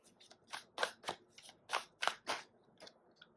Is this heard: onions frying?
no